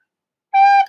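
A single G note played on a recorder, a clear, steady, breathy tone that starts abruptly after silence and holds for under half a second.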